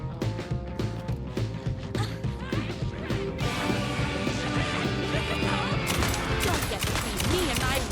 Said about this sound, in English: I like my shotgun.